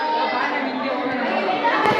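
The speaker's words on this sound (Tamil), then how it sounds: "இந்த பாம்பை பார்த்து பிள்ளைங்களாம் பயங்கரமாக கத்துறாங்க" Crowd of children shouting and chattering loudly at a python in the reptile enclosure of Pilikula Biological Park zoo in Mangalore, a dense continuous din of young voices throughout.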